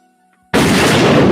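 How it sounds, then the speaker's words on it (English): Blaster gunshot sound effect, silence broken by a single sudden loud blast that holds as a dense, roaring burst. "Where's my goddamn gunshot?"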